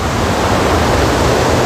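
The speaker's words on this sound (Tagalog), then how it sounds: "So yan po yung volume ng tubig." Floodwater rushes over Wawa Dam after Typhoon Ulysses, a loud, steady, broadband roar of churning water with no pauses.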